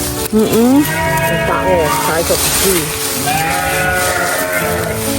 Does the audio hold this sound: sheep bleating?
yes